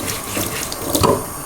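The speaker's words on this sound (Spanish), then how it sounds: "vamos a pasarlas por el agua y vamos a eliminar bien todo el barro que tengan" Tap water running over dirty carrots as mud is rinsed and brushed off, a steady splashing stream with brief louder gushes as the roots pass under the flow.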